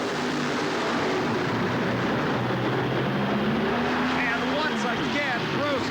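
Drag racing cars at the 1989 NHRA Motorcraft Gatornationals roar down the track in a loud, sustained blast of engine noise, with a faint voice over it.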